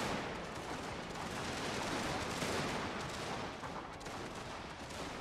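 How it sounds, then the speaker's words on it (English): Gunfire from units opening fire in a video game battle, a dense continuous crackle of rapid overlapping shots and distant booms forming a steady barrage throughout. "Now they're opening up fire"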